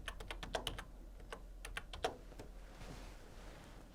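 Quiet, close keystrokes tap on a computer keyboard while someone fills in an online registration form, a quick burst of clicks followed by a few spaced taps and then a softer stretch near the end, with no talking.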